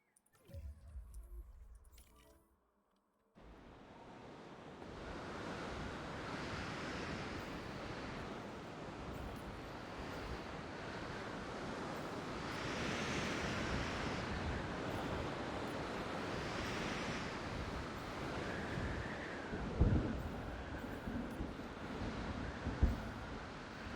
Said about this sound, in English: Let's let the storm run here.